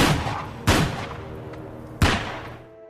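Two sharp, loud gunshot blasts roughly a second and a half apart, each with a ringing decay, from a scene in the 1996 film Fargo.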